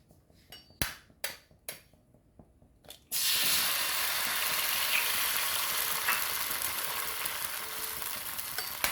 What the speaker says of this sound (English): add my egg